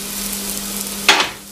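Celery, garlic and carrots sautéing gently in a pan for minestrone, a soft continuous sizzle with a low steady hum, then a brief louder rush as more vegetables drop in and hiss.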